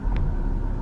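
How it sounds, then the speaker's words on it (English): A car engine starting back up on its own, heard from inside the car as a loud, steady low rumble with a brief higher whine near the start, lasting under a second. "My car just like started back up again."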